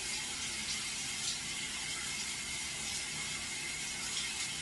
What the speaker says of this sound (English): It's just I'm in the shower